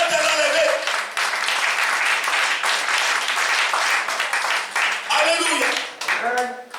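A church congregation claps and cheers in praise of Jesus, with loud, continuous applause and shouting voices filling the room throughout, and individual cries rising above the crowd.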